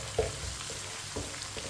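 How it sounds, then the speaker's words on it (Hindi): Crushed garlic and ginger frying in a pan for sarson ka saag, a steady moderate sizzle with occasional soft scrapes of a stirring spoon. "1 चम्मच कुटा हुआ लहसुन, 1 चम्मच कुटा हुआ अदरक, 2 मिनट के लिए दोनों चीज़ों को पका लेंगे।"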